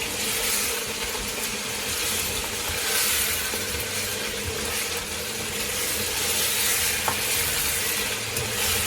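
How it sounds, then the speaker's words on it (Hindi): Chicken kofta being fried with spices in a pan gives off a steady, close sizzle with constant stirring and scraping, and no one speaks. "मसाले के साथ भूनूंगी"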